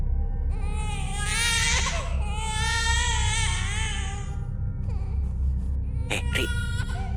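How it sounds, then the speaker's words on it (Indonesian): An infant cries and wails in long, wavering sobs over a constant low rumbling ambience in a horror story setting on a mountain campsite, the cries fading out midway before short sharp whimpers return near the end. "kok ada bayi nangis ya?"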